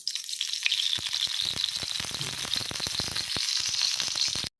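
Leafy greens (saag) crackle and sizzle steadily in hot oil in a pan on a gas stove, with dense spitting pops throughout, close and fairly loud, with no talking.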